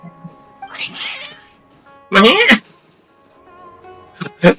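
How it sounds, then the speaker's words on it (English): Agitated cats in Genshin Impact on PlayStation 5 let out a series of loud, drawn-out meows and caterwauls in bursts, with sharp cries toward the end and short quiet gaps between. "Your cats seem pretty worked up."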